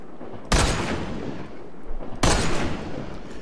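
Two heavy sniper rifle shots in a first-person shooter game, each a sharp loud crack followed by a long booming tail that fills the gap, spaced about two seconds apart with no talking.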